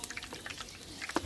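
Liquid poured into a hot pan of frying eggplant, a quiet short splash and trickle with a sharper sizzling burst near the end, no talk.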